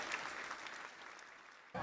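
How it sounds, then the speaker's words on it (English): Boxing and UFC event crowd giving a round of applause, faint, steady clapping lasting under two seconds before a sudden louder burst at the end. "Round of applause for Hito."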